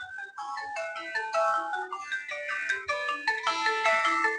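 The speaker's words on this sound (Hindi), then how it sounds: "अब ये देखता हूं किसने फोन किया है" A phone ringtone plays for an incoming call, a loud, bright electronic melody of quick repeating notes that continues throughout with no talking.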